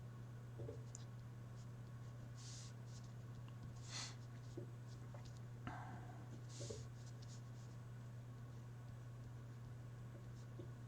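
Marker or chalk scratching on a board during a lecture on calibration, a series of short scattered strokes with soft taps, faint and fairly close against a steady hum, no talking.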